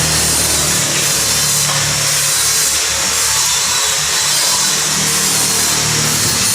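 A power tool cuts stainless steel tubing for a balcony railing, giving a loud, continuous grinding hiss that holds steady for several seconds with no voices.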